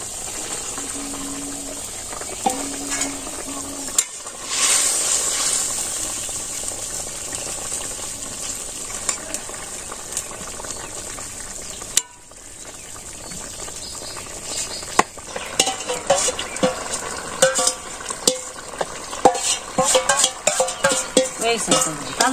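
Fresh fish dropped into a hot pan and cooked into a village-style curry, with a steady sizzle and bubbling hiss running throughout, joined by scattered clinks, stirring scrapes and crackling pops that grow busier toward the end.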